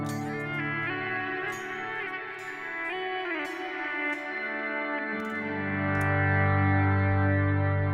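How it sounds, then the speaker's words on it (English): Electric guitar run through a Kemper amp with an auto swell effect, chords fading in softly with echo and chorus shimmer, a few swelling strums followed by a louder sustained low note near the end. "I love me a good auto swell"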